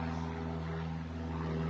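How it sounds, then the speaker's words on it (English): A loud plane flies overhead as a steady, droning engine hum with strong low tones, holding constant and unbroken throughout with no voices. "This is a very loud plane."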